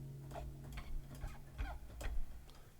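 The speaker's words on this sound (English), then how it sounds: "there are some fret noises down the bottom here" Short squeaky scrapes and clicks of fingers sliding on nylon guitar strings, sampled fret noises from a Waldorf Quantum patch, a handful of brief bursts spaced irregularly over a low hum.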